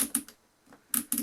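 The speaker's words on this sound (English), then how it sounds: "Now here you have the Mark 1 sight, which is a dial sight or a drum sight. So you literally just click it" Mark 1 dial sight on a Bren light machine gun being turned, giving a few sharp, close clicks in two quick clusters with a short pause between them, no voices.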